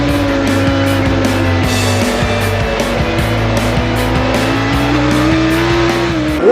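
Superbikes racing hard in the late laps of a 2004 AMA Superbike round at Brainerd International Raceway, a loud continuous engine howl with rising and falling pitch as bikes pass close, steady throughout with no voices.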